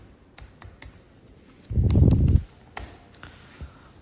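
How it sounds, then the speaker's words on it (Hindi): Sparse key taps on a computer keyboard entering a user's password on a RHEL 9 Linux system, with a short louder burst of clattering keys midway, then a few more isolated clicks. "ट्रिपल के का पासवर्ड डाल दूंगा"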